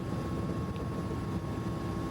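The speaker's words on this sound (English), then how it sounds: "just having that blade slap in there" A Mi-17 helicopter in a flight simulator drones with a dense, low, continuous rotor rumble and blade slap, steady and loud throughout.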